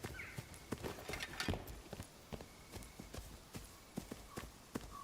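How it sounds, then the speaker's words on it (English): Footsteps in the dungeon game Dark and Darker, a run of sharp, irregular thuds and clacks close by over a dim ambient bed, with no voices. "Bro, I hear footsteps"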